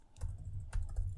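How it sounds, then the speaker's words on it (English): Computer keyboard typing: a few faint, separate key clacks over a low steady background hum, close but quiet. "I hope you can hear me typing"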